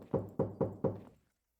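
Four sharp knocks on a wall inside the horror game There Are People in Your Walls, evenly spaced and close, each with a short hollow decay before quiet.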